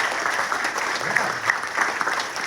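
A cheering section at a town hall meeting applauds steadily in a room, a dense patter of hand claps at moderate loudness throughout, with a few sharper claps standing out.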